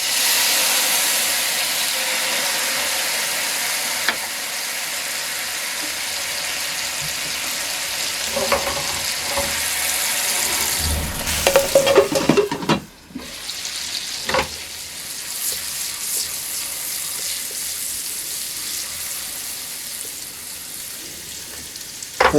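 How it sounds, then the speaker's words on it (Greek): A pork roll sizzles loudly in a hot pan, and cognac poured in to deglaze sets off a sharp hiss and burst of steam, the frying settling to a quieter crackle afterward. "Θα σβήσουμε με το κονιάκ."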